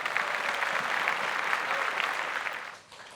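Audience at a Tamil Pongal debate show (pattimandram) claps in a sustained burst of applause, dense and even, then tapering off near the end.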